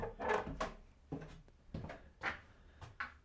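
A creaky wooden stair leading down into an insulated cellar groans and knocks underfoot in a series of close, uneven thuds and creaks, several steps taken in a row.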